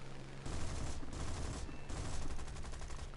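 Rapid aircraft cannon fire in a combat flight video game, a dense sustained burst of fast repeating shots that stops briefly and then resumes, loud and continuous.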